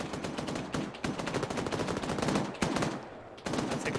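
Gunfire in the ArmA 3 video game, rapid automatic bursts rattling in dense rhythmic volleys, loud and close, with brief gaps and sharp single cracks between strings of shots; no talking.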